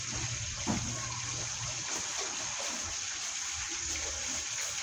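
Liquid for buttered honey garlic chicken bubbling at a boil in a pan, a steady close hiss and churning simmer with a few small pops, no talking.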